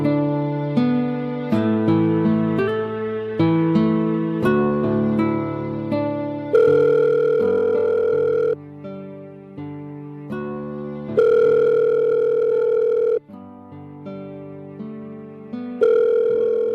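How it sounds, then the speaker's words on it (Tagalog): Cellphone ringing tone playing a looping electronic melody of bright synthesized notes, loud and clear, repeating its phrase several times with no voices. "Kinuha ko ang cellphone ko at tinawagan si Deo"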